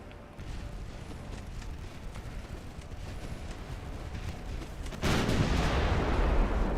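Naval guns on warships firing during a battle in Ultimate Admiral Dreadnoughts, a continuous rumbling barrage of distant booms that swells into a louder, denser roar toward the end.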